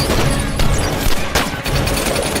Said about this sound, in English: Irina suddenly arrived and opened fire to stop them